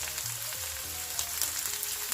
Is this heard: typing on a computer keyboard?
no